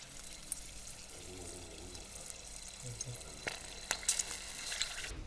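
Cornbread batter fries in hot oil at 350 degrees with a soft, steady sizzle and scattered crackles and pops. It is fairly quiet and close, with a faint voice in the background.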